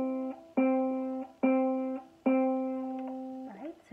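A ukulele's C string plucked three times in a slow, even rhythm, each note ringing clearly and fading before the next, followed by a brief sliding squeak at the end.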